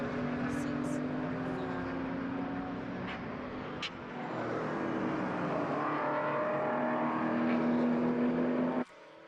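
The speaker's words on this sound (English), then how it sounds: "Shane Smollen has the tail wagging on his Porsche 718 Cayman GT4 factory-built Porsche race car, chasing down the BMW M3 that is leading the way" Porsche 718 Cayman GT4 and BMW M3 GT4 race cars at a GT4 circuit race in Sydney, engines droning steadily at a distance under continuous commentary, with a sustained roar that swells then cuts off near the end.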